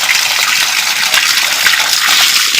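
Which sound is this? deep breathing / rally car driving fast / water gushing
water gushing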